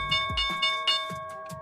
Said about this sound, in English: Here's the opening bell, guys.